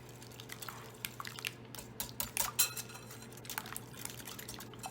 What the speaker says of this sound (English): Now we're going to go ahead and mix this with the whisk